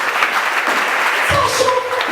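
Loud clapping and cheering from a church congregation praising God, a steady dense wash of applause with voices shouting through it.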